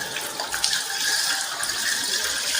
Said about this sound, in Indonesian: Pastikan air mengalir sampai siku-siku